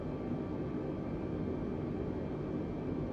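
An Airbus A320 cruises in Microsoft Flight Simulator 2020, a steady low engine drone and cabin rumble holding at an even level throughout, with no talk.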